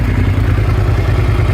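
A 2005 Suzuki SV650S motorcycle engine idles just after starting, a steady low rumbling throb close to the microphone with no talk.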